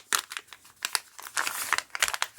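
A package wrapped in tracing paper crinkles and rustles as hands work it open, a close, continuous papery crackle with sharper bursts and brief tears.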